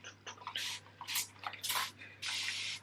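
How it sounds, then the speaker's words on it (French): Mineral water is spritzed onto hair from a spray bottle in several short, close hissing bursts, the last one longer, with small drips and handling noises between them. "je vais juste réhumidifier un peu mes cheveux"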